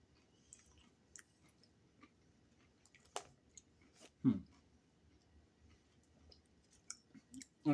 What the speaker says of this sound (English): The crunch is almost like they're about to go stale.